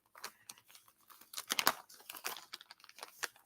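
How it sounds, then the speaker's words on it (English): Peanuts crunched while eating, a close, dry run of irregular crackling bites and chews over a few seconds, with no talk. "if y'all hear me crunching, I'm eating my peanuts"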